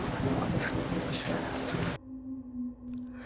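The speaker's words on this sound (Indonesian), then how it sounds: "Kondisi di luar hujan deras" Heavy rain pouring down outside, a dense loud hiss of falling water for two seconds before cutting abruptly to a quiet hum with faint rumbling.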